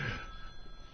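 A mobile phone rings in a radio studio, a faint, brief electronic tone heard over a low room hum.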